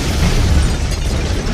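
A heavy explosion sound effect: a dense, loud low-frequency boom with rumbling debris that fills the entire short moment, with no voices present.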